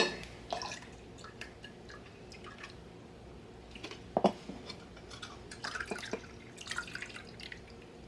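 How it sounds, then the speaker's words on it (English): Liquid from jars of canned peaches poured out, faint irregular splashes and drips with a few sharper trickles, quiet and close, no voices. "Let me go ahead and get all of these jars empty."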